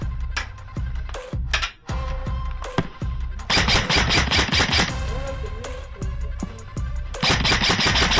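Airsoft guns fire outdoors in rapid bursts, dense clattering volleys of sharp snaps with short gaps between them, loud and close.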